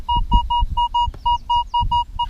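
A Minelab Equinox 800 metal detector sounds a steady run of short, evenly pulsed beeps over a buried target on farmland, loud and close, with low rumbling handling noise and thumps underneath.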